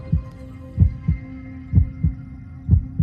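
A mother's heartbeat pulses in slow, regular lub-dub pairs, deep and muffled with a soft underlying hum, about three double beats repeating evenly and close up, alone without voices.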